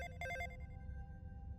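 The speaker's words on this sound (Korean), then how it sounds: "어느 날 저녁 휴대전화가 울렸어" A mobile phone rings in a quiet room for a single short burst of electronic ringtone tones, then a faint lingering tone over low background hum, used as an effect in a spoken horror story.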